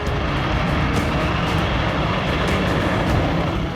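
Polish MiG-29 and F-16 fighter jets flying over the Baltic Sea, a steady, loud broadband engine roar that holds without pause throughout.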